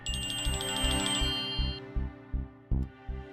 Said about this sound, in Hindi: नरेन का फोन इस वक्त?